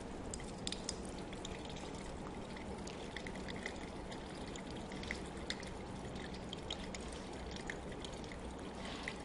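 Water draining through a hose out of an oil-water mixture, a faint, continuous trickle and drip that runs steadily with no talking.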